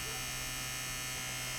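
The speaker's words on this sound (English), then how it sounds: "I just turn a little fan on them in this to dry it up a bit" A small electric fan running to dry cold-smoked cheese, a steady even hum and whir, close and constant, with no voices.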